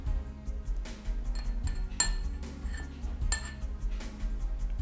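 A spoon clinks against a ceramic cup while stirring half a spoonful of honey into Earl Grey tea, giving light repeated metallic taps over a low steady background hum, near and clear.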